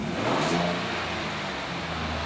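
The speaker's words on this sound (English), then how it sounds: "Should I rev the engine to produce more fumes faster?" A car engine revs loudly and steadily, a sustained mid-range roar that swells near the start and then holds at a high pitch without any talk.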